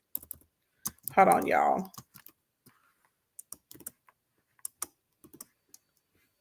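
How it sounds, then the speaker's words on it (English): Sparse keyboard taps pecked out one at a time on a computer keyboard, short irregular clicks scattered across the stretch, with a brief spoken phrase near the start. "I got a peck on the keyboard because I haven't finished my nails yet"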